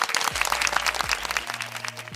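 Applause in the Star Stable Online video game, a dense, steady burst of crowd clapping that fills the whole short stretch, with low synthetic tones sliding underneath.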